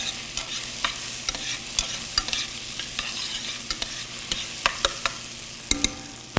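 Onions sauté in a pan, a constant sizzle punctuated by a dozen or so sharp scraping stirs as the pieces get moved around, fairly close with no one talking.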